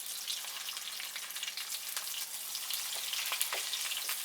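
Hamburger steak patties frying in a pan, a steady close crackling sizzle with small spitting pops throughout, no voices.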